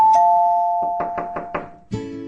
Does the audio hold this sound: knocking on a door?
yes